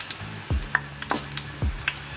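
Onions frying in oil in a pan while making onion hair oil, a soft steady sizzle broken by occasional stirring knocks and scrapes, close up with no talking.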